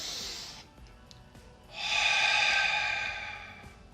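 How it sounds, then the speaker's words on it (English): Two audible breaths through the nose during a guided meditation: a short airy exhale at the start, a pause, then a long, close, deep nasal inhalation lasting about two seconds, with no talking. "take a deep breath through your nose"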